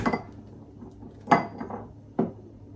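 Two eggs cracked against a bowl while baking a Biscoff brownie, three sharp clinking taps spaced about a second apart, close and distinct over a quiet kitchen background.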